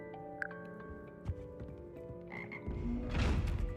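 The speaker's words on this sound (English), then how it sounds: "Here perch the slimy yet symphonic frogs that comprise the Hogwarts Frog Choir." Frogs of the Hogwarts Frog Choir in Hogwarts Legacy croak in scattered, quiet bursts, with a louder, denser swell of croaking rising near the end.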